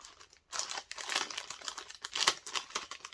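Crinkly plastic Temu package being opened by hand, close and bright crackling and crumpling in irregular bursts with a short tearing rip, no talk.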